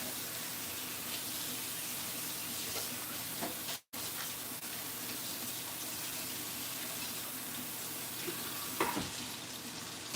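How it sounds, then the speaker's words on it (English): Tap water runs steadily into a kitchen sink while fish is rinsed and washed, a loud continuous rush with a brief break and a few clatters near the end. "Prepping and washing my fish."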